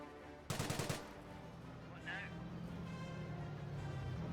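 Bursts of gunfire from a Company of Heroes 1 match, a short rattling volley near the start followed by a steady rumble of battle noise, with a commentator talking over it.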